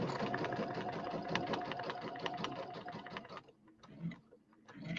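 A sewing machine runs steadily while stitching a quilt along a marked line, with a fast mechanical chatter that stops near the end and gives way to a few short bursts of stitching.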